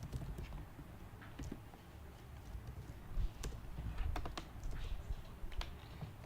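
Code is typed on a computer keyboard in a quiet room, a steady run of close, light key clicks with irregular bursts and no talking.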